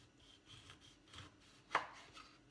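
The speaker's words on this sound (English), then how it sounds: "for the lemon, I don't like too much white, so that white bit can go. I'm going to just simply slice it up" Knife slicing through a lemon on a cutting board, with soft rubbing cuts and one sharp, distinct chop near the end. The sound is close but quiet.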